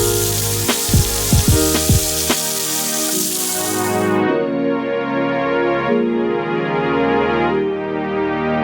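Burgers fry on a Camp Chef FTG600 griddle with a loud, steady sizzle throughout, broken early by a few sharp clinks of a spatula against the cooktop, with no voices.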